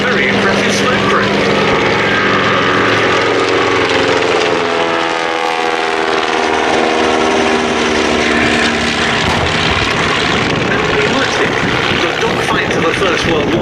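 Seven-eighths-scale SE-5A replica WWI biplanes fly past at the Duxford Battle of Britain air show, a loud continuous propeller engine drone that swells and shifts in pitch as they pass, with a commentator talking over it.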